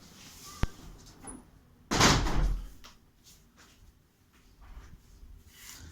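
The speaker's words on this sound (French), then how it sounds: "Je cherche juste à fermer ma porte-fenêtre déjà pour qu'on ait un meilleur son" A French window is shut with one sharp knock, and a loud sliding, rushing noise follows as it closes. Quiet room sound surrounds it.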